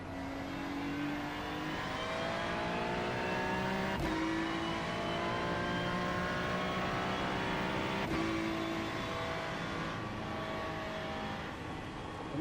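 A Ferrari race car engine drones steadily as it laps Thruxton in iRacing, heard from inside the car. The pitch climbs through each gear and drops sharply at two clean upshifts, with no talk over it.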